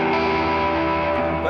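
An electric guitar rings on its open G string with reverb and delay, giving a hollow, sustained tone that hangs and slowly washes out. The single note sounds clear and fills the space.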